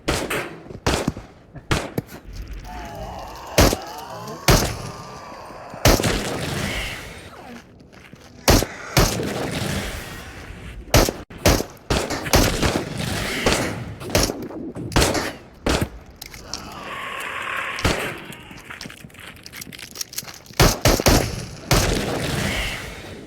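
Gunfire during an ambush in the video game Into The Radius: sharp loud shots spaced irregularly, some in quick bursts, with booming echoes and shuffling movement between them.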